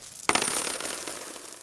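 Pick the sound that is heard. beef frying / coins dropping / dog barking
coins dropping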